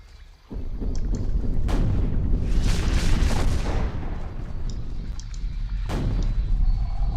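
Gunfire in the fantasy action game Sacred: Underworld, a loud, sustained booming burst of shots with heavy low rumble, followed by a second sharp blast, no talking.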